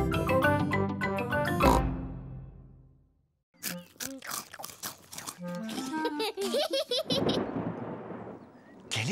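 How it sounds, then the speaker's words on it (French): Voices and music in a French-dubbed Peppa Pig cartoon give way, after a pause, to a burst of rumbling cartoon thunder that rolls in loudly near the end. "C'était le tonnerre, Peppa."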